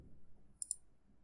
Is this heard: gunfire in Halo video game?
no